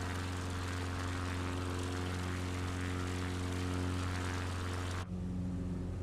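Propeller airplane engine in a flight video game, a steady, close droning hum with strong harmonic tones, holding constant for several seconds before shifting pitch abruptly near the end, no talk.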